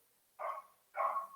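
Two short, moderately loud dog barks about half a second apart, each with a brief tail, heard alone against a quiet background.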